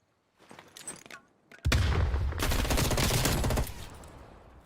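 Dense automatic gunfire in a Call of Duty Cold War tournament match, loud and close for a couple of seconds after scattered quieter shots, with a caster voice faintly present.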